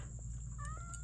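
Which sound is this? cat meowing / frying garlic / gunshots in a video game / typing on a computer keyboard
cat meowing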